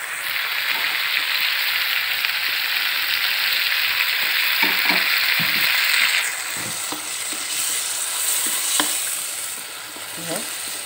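Dendeng, dried beef, frying in a pan, a loud continuous sizzle with scattered stirring clinks and scrapes, easing slightly partway through.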